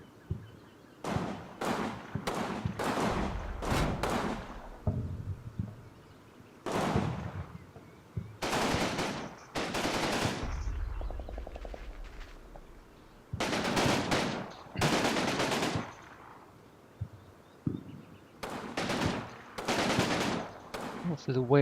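Heavy machine gun team firing from stables in the Combat Mission war game: long loud bursts of rapid automatic fire, repeated many times with short pauses between, close and harsh.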